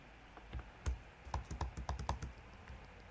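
Rapid keystrokes on a computer keyboard as code is typed, a few scattered taps giving way to a quick even burst of about ten clicks, close and clear with no voices.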